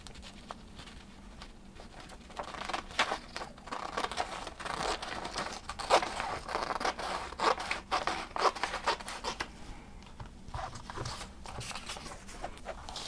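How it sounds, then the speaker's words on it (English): A square of paper being folded and its edge snipped off, with continuous soft rustling, crinkling and scraping from close by and occasional sharper snips and creases. "by folding it this way, you can cut this edge off and you will have a square"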